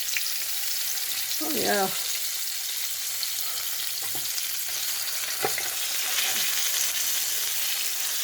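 A 2.67-pound pot roast sears loudly in a hot pan with a constant hiss and crackle, while someone says a few words briefly over the sizzle.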